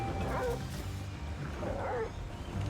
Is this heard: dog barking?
yes